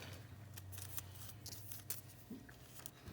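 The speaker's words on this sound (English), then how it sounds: "So this time I trim and I cut them smaller." Small scissors snip nail transfer foil strips into shorter pieces, giving a series of quick, crisp close-up cuts over a low steady hum.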